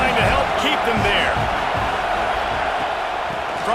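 A football stadium crowd roars continuously during a Penn State versus Rutgers game, a dense, loud wash of massed voices with faint scattered shouts, steady and enveloping.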